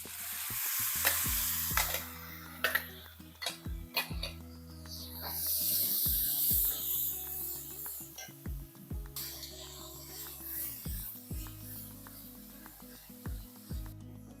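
Onions and tomato paste fry with a steady sizzle in a pan while a spoon repeatedly scrapes and knocks against the metal, making close, rhythmic stirring clatters throughout.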